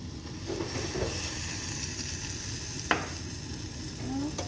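Carrots sizzle in a hot pan with shrimp and spices for kabsa, a steady close frying hiss throughout with a single sharp utensil clink partway and a faint squeak near the end.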